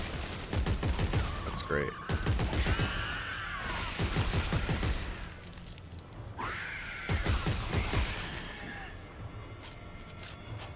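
Gunfire from zombie enemies in the video game Dead Space 3, rapid bursts of shots crackling through a busy mix of game effects, with a player talking over much of it.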